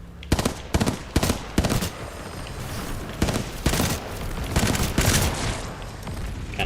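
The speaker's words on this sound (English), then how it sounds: "Hemlock's gonna be a 3-round burster" Hemlock three-round burst rifle fired in Titanfall 2, with repeated tight bursts of sharp gunshots in quick groups, loud and close, plus a few scattered single shots and background game action, no talking.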